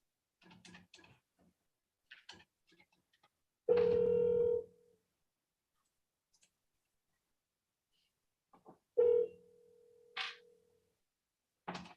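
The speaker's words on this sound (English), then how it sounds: "We're gonna call you on the telephone." A telephone is dialed with sparse clicks and short tones, then two long buzzing rings separated by silence, followed by a brief higher beep, all fairly quiet and isolated with no voices.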